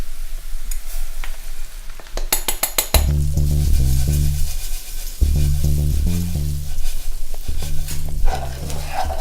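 Garlic and millet sizzle and crackle in a hot pan while being stirred, a steady loud frying hiss with repeated scraping stir strokes and some pulsing tonal bursts over nine seconds.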